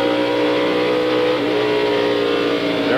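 A NASCAR stock car at the 1994 Brickyard 400 accelerates back on throttle through turn 2, a loud, continuous engine roar with a rising pitch sweep as it passes.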